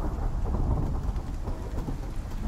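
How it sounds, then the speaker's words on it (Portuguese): Acid rain pours down during a storm in the survival video game Icarus, with heavy steady rainfall and low rumbling thunder filling the short stretch, dense and continuous with no voices. "Ah, entendi. A chuva ácida."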